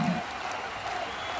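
Crowd applause at a professional wrestling show, a steady wash of clapping and crowd noise that stays loud and even throughout.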